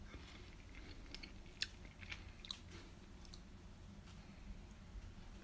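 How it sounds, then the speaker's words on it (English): Quiet close chewing of cooked Afghan palaw rice, soft wet mouth sounds with a few small clicks and bites against a low room hum. "but I'm going to taste the rice"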